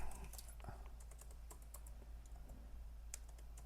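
Someone types a spreadsheet formula on a computer keyboard, with quick, light, irregular keystrokes close by at a steady pace over a quiet background hum.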